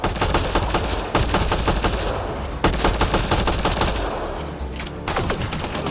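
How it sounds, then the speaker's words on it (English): Rapid automatic gunfire from the video game Mass Effect Andromeda, loud dense bursts of shots with short pauses between volleys. "I'm just gonna shoot the rest of you."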